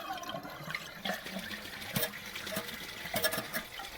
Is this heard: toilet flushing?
yes